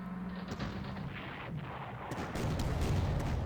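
Artillery fire in the World War II strategy game Panzer Corps, Operation Sealion, comes as a muffled, continuous booming rumble with a few sharper hits, growing heavier toward the end.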